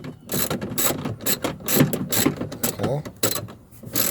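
Ratcheting tool clicks steadily while tightening a screw on the plastic rear exterior door handle of a 2013-or-later Chevrolet Silverado or GMC Sierra truck, close and continuous, with a brief spoken word.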